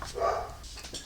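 A dog named Cooper gives a short, muffled bark or two from another room, faint and brief against quiet background.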